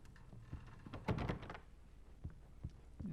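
A locked wooden cabin door in a dark horror game rattling and thunking as it is tried, a short cluster of knocks and clunks near the middle with softer scuffs around it, close and fairly quiet.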